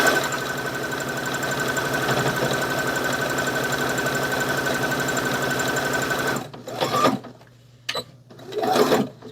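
Sewing machine stitching fabric pouches runs loud and steady for about six seconds, a fast continuous mechanical whir, then stops, followed by a few short bursts of handling noise.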